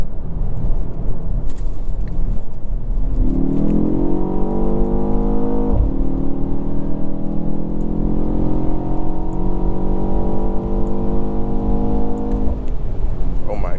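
A 2024 BMW X1 M35i accelerating hard on turbo boost, the engine note climbing steadily in pitch for several seconds, briefly dropping at a gear change, then rising again, loud from inside the cabin over road rumble.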